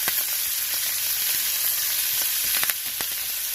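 Steak fries in a pan with butter and rosemary, a loud, steady close sizzle with scattered pops and crackles and no talking.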